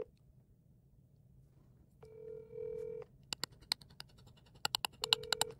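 A phone call rings out while the caller waits for someone to pick up: two long ring tones separated by a pause, with sharp clicks and taps in between, fairly quiet and close.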